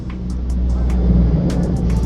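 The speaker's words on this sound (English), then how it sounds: "Hold on, truck." A truck passing by outside makes a loud, steady low engine rumble that fills the whole moment, with no voices heard.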